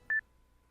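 A single short phone dialing tone from the video game Bosskwar, one clean beep lasting a split second, then quiet.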